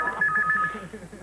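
Synthetic telephone ringing tones from a prank call pulse in short bursts at the start, sitting over a low murmuring background, then fade out as the line is picked up.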